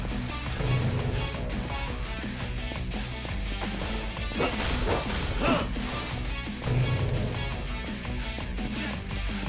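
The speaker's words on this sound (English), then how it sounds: "Just a couple hits with a knife and it just shatters." A flimsy barrier in Yakuza Kiwami 2 shatters under a couple of knife hits, giving a sharp crash of breaking debris that rises out of a dense, busy game soundscape with music and other noise running throughout.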